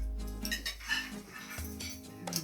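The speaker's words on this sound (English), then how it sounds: "This is where I put down the fork." Metal fork set down on a dinner plate during a Jamaican comfort food meal, giving a few soft clinks of cutlery on dishware against a low room background.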